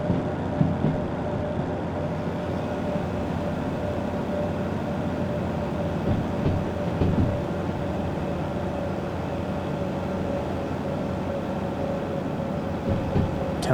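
Steady low rumble and drone of a locomotive running in the train simulator game Derail Valley, a continuous engine hum with faint rattles, no speech.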